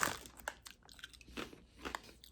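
Dry, crisp crunching as Mackey's crisps are bitten and chewed up close, with a sharp initial bite followed by two more crunchy chews, quiet and clear with no talking.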